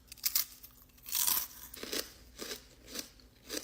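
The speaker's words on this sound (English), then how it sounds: "Listen to the crunch." Crunching bites into a cold pizza-flavored snack, close and crisp, several separate crunches and chewing bursts at an irregular pace with no talking.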